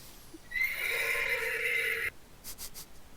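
A horse lets out one long, loud whinny lasting about a second and a half, then a few short clip-clop knocks follow in the quiet afterward.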